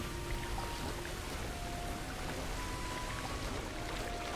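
Splashing, churning water as a character swims through it in Hogwarts Legacy, a steady close wash of noise with faint tonal game music running underneath, no talk.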